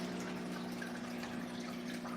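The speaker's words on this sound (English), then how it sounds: "That's the pump right there. That's a 300-gallon pump." A 300-gallon pond water pump runs with a steady low mechanical hum under a constant wash of flowing water, close and unchanging throughout.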